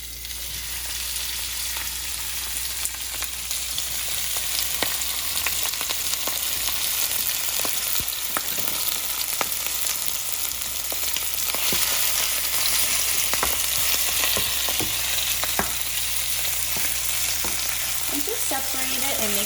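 Oyster omelette mixture frying in oil in a hot pan on a stovetop, a steady loud sizzle running throughout with occasional scrapes and stirring clicks, no talking.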